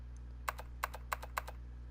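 Keyboard typing in the video game Zero Escape 999: four quick double clicks of keys at an even pace, crisp and close over a low steady hum, with no voices.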